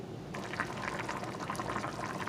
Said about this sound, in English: Cover it and let it boil up again.